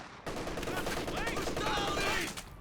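Machine gun fire in a Company of Heroes 2 match: a rapid, sustained burst of loud gunshots layered with whizzing and whistling battle effects, continuous throughout.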